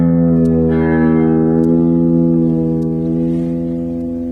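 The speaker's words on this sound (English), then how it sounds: "Listen to my low E as it dives in pitch." Electric guitar on a fulcrum tremolo bridge with tremolo sag, a sustained chord with the G string bent upward while the low E drifts down in pitch, loud, close, alone.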